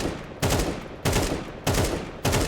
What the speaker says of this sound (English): shoot a burst, and do it like really quickly